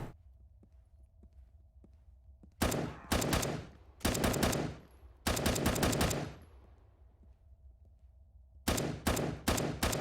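Video game guns fire in loud rapid bursts, four separate volleys of automatic shots with quieter gaps and a faint ticking hum between them.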